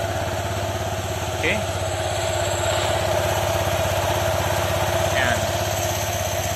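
A Honda ADV 160 scooter on its stock ECU, recovering after being flooded, idles with a steady low, even putter while someone talks over it nearby.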